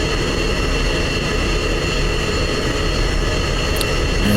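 An F-16 taxiing in a flight simulator after a night mission gives a loud, steady jet engine roar with broadband hiss and a low rumble, continuous and unchanging, with no talk.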